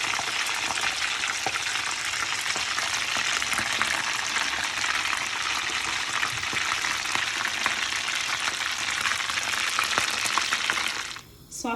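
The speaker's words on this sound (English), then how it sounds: "So I'm just putting hot oil over it, slowly turning it over because the oil is very hot" Potato cutlets fry steadily in very hot oil, giving a dense, crackling sizzle close by that hardly changes for most of the time. Near the end there is a short clatter as they are turned, and nobody speaks.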